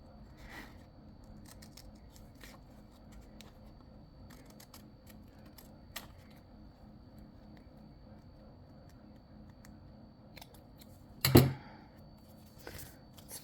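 Scissors snip through paper or card at a crafting table, a few quiet scattered cuts in a hushed room, followed by one sharper, louder snip-and-clunk.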